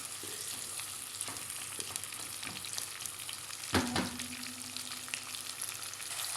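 Onions sautéing in a pan until dark brown, a steady close sizzle and crackle with light stirring scrapes and one sharper clatter partway through, no voices.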